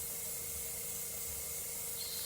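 Water-based hobby paint sprayed from an airbrush onto test paper, a steady continuous hiss with no breaks, close and even throughout.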